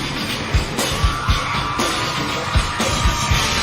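A concert audience screaming and yelling together, a dense, sustained roar of many voices with scattered sharp shouts and a few dull thumps rising out of it, loud and continuous.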